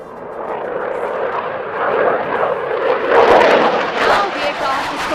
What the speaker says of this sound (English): it is time to witness the agility of the aircraft to carry out a max straight turn